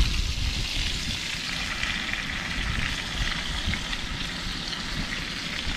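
Steaks frying on a camping stove, a steady, dense crackling sizzle that holds evenly throughout at close range with no talk.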